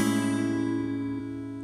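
An electric guitar rings out a sustained chord from an intro, fretted on the sixth string's fifth fret with the A string muted, slowly fading with a slight shift near the end.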